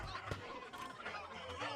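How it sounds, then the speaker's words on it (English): A chicken in the pirate game Sea of Thieves clucks and squawks repeatedly in short fowl calls, fairly faint and close, with a voice faintly present beneath. "This chicken's kind of annoying."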